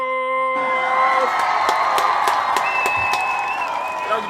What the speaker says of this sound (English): all the Coogee babies, a round of applause